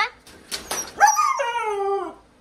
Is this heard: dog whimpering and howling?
yes